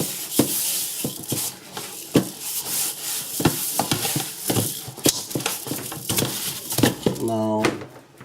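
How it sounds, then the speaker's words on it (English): Lamb shanks drop into hot oil and start browning, with a bright sizzle and pan clatter running under intermittent speech, sharp utensil knocks punctuating it. "Now this oil is hot. I'll put the shanks in and brown them."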